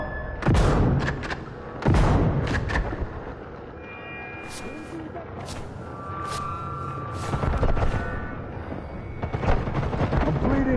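Heavy booming shotgun blasts ring out in the Sniper Elite 5 video game, two loud close shots early followed by further scattered reports and softer distant gunfire.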